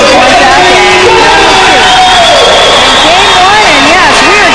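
A large crowd roars and cheers continuously at a university basketball semifinal between Regina and Calgary in an arena, dense and loud throughout, with a voice carrying over the crowd noise.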